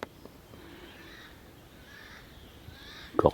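A crow caws in a forest, a few faint, hoarse calls drifting from a distance over quiet woodland ambience, followed by a louder close rustle or knock near the end.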